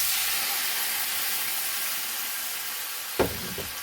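Chopped tomatoes go into a hot pan for a no-flour vegetable bake, bringing a steady loud hiss of sizzling oil with a brief knock of the pan near the end.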